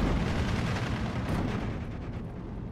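Tank cannon fire and battle din in the WWII strategy game Steel Division 2 during town combat with Panther tanks, a dense continuous rumble of booms and gunfire, loud and sustained, no voices.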